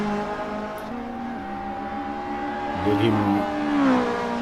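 Several GTi Challenge race cars pass on track during a round of the SRA series, engines revving loudly with a rising pass-by swell near the end, while a commentator talks over the engine noise throughout.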